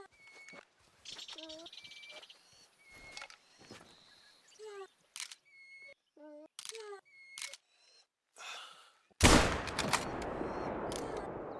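A hunting rifle shot in theHunter: Call of the Wild booms out near the end, one sharp loud crack with a long rolling tail. Scattered clicks, bird calls and short game sounds come before it, and no one speaks.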